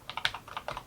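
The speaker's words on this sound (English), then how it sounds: "We have a spring-loaded membrane keyboard," Keys tapped on an Atari 800XL's spring-loaded membrane keyboard, about a dozen quick, soft, uneven clicks close up over less than a second, with no voices.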